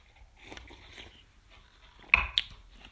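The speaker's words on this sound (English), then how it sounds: "I'm still chewing the fruit." A person chewing fruit from a cocktail, giving soft, moist mouth sounds and squishy bites, with a sharper crunch a little past the midpoint, close and quiet.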